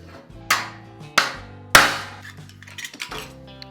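Three hard hammer blows strike a dome punch into a metal side panel, each a ringing metallic clang decaying quickly, followed by a few lighter taps and clatter.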